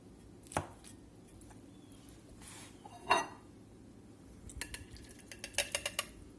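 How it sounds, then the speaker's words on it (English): Knife strokes slicing through a homemade meat and potato pie, a few soft cuts early on, then a quicker run of light taps and clinks against the plate toward the end, close and fairly quiet. "Get this meat and tater pie sliced up here and get some supper on the table"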